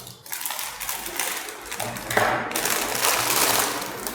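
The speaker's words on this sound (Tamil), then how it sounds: "கொஞ்சம் சிசர் வச்சே கட் பண்ணுவோம்" Scissors cut through the plastic packaging of a ZP5 dart spring-action revolver toy gun, making close, rapid scratchy crinkling and snipping noises that grow louder and denser toward the end, with no voices.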